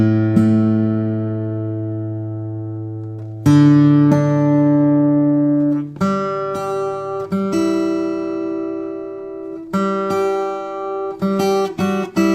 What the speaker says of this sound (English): I'm holding an A note at 32 there, 3rd string, 2nd fret, and this note is picking up that resonance